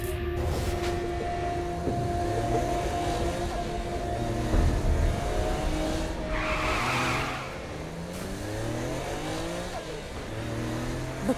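A car in the game Saints Row: Gat out of Hell drives along with engine revving up and down through gear-like sweeps, tire screeches, and a whooshing burst midway, sustained throughout without talking.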